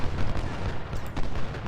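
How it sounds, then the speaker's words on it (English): Musket volley from skirmishers in the Civil War strategy game Ultimate General: Civil War, a dense rolling crackle of gunfire sustained across the whole moment with several louder bursts, no voices. "Skirmishers fire again."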